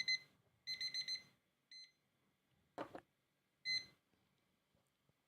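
A timer alarm gives bursts of high, bright electronic beeps in short clustered groups separated by pauses, with a brief thump or rustle between them and no voice.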